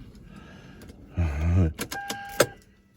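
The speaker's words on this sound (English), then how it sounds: "we're gonna see if this thing will start." Lexus ES300 with a dead battery failing to start: a loud whirring, groaning burst lasts about half a second, followed by a few sharp clicks and electrical chirps, then quiet.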